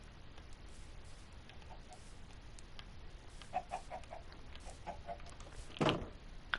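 Faint Minecraft chicken clucks, a few soft chirpy bursts over a steady background hiss, with one louder squawk near the end.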